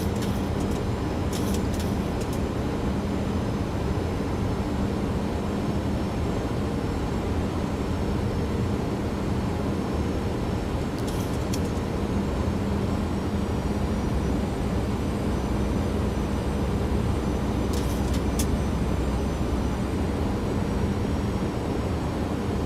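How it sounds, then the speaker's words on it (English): A Boeing 737-700 landing at LAX in a flight simulator: a steady, loud jet engine roar and rushing air that hold level throughout, with a few faint high chimes or tones over it. "so we're landing at LAX right now"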